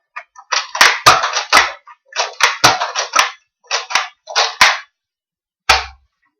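A Nerf toy dart blaster is worked and fired repeatedly, producing bursts of close, sharp plastic clacks and snaps in irregular clusters separated by brief pauses, ending with one isolated snap.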